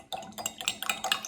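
A spoon stirs sugar into a cup of coffee, giving rapid close clinks and scrapes against the cup in a quick, uneven rhythm.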